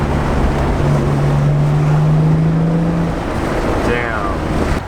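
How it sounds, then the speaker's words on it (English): Nissan R32 Skyline GTR on a test drive, a steady, loud roar of engine and road noise with wind buffeting the microphone, a sustained droning tone running underneath. "So this is the first drive of the GTR"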